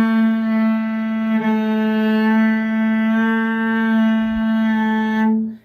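Cello bows a single long, steady note on the D string, sounding A, with a slight shift in the sound early on; close and resonant, it plays alone and cuts off at the end.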